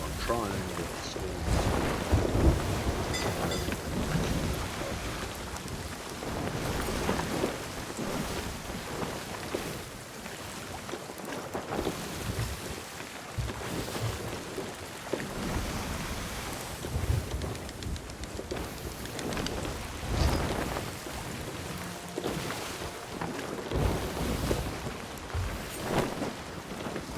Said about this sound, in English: I had a wild storm.